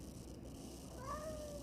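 A cat gives a single faint meow, a short rising-then-falling call over quiet background noise, with no one talking.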